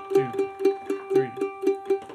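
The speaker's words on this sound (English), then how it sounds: "We're going to use a G note, which is going to be that fifth fret on your D string." Mandolin repeating a G note at the fifth fret of the D string, picked in an even tremolo-like rhythm of about eight strokes over two seconds, close and alone.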